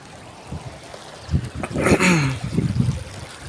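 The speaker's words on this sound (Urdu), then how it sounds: "شاید آپ کو پانی کی آواز سنائی دے رہی ہو" Stream water flows through a village in a soft, steady trickle at low level, swelling briefly midway under a louder passing sound before settling back into the gentle background flow.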